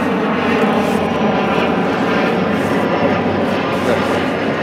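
A steady, loud roar of an aeroplane passing overhead during an April garden walk fills the whole stretch, a broad continuous rumble with no other sounds standing out.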